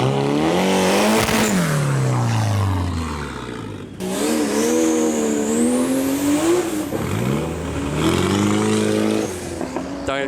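A loud, brutal car engine revs hard, climbing and falling in pitch through several long pulls, roaring close and alone with no talk.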